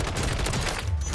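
Rapid automatic bursts from a Ram 7 assault rifle in the Warzone video game firing range, shots cracking in a fast continuous rhythm, loud and close throughout.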